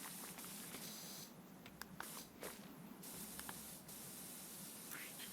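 Steady pressure washer spray hissing continuously in PowerWash Simulator, a broad even rush of water with a few brief clicks and shifts in tone as the nozzle changes.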